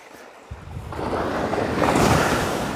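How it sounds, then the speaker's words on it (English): Ocean surf rolling onto a Western Australian beach, a steady broadband wash that builds and swells louder after the first half second, with wind buffeting the microphone and no voices. "Notice how we have more waves here, people?"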